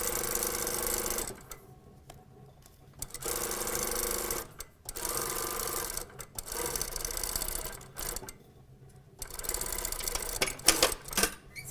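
A sewing machine runs in several rapid, steady bursts while stitching a fashion skirt panel seam, separated by short quiet pauses.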